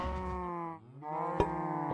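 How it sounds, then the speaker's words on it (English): A cow in Minecraft with the StoneBlock 2 modpack lets out a single drawn-out synthetic moo, dipping briefly in pitch midway, clear and close with no talk over it. "If I can get the cow to move out of the way."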